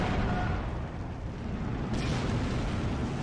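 Tank guns firing in the Steel Division 2 World War II strategy game as T-34s advance: a continuous rumbling barrage of dense, booming battle noise, with a sharper burst about two seconds in.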